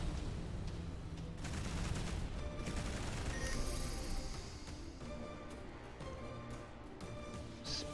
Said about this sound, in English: One of the enemy ships has been destroyed.